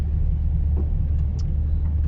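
A car rolls slowly along a muddy country road on a cloudy day, its low engine rumble and road noise steady and close throughout, with no talking.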